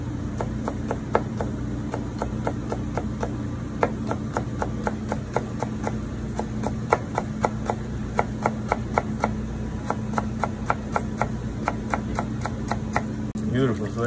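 Vegetables sliced paper-thin on a mandoline, giving a steady, rhythmic run of crisp, evenly spaced cuts throughout, fairly close, with a low background hum.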